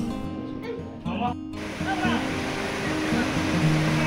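Waves and flowing water of the Narmada river at the Dudhdhara waterfall in Amarkantak, a steady broadband rushing wash with lapping swells, heard close and loud with some background voices.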